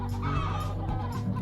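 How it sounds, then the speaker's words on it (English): Chickens clucking in a video game, a steady low cluttered murmur of fowl sounds filling the short stretch without pause, close and moderately loud with no talk over it. "Here, I'm going to let you hear my chickens."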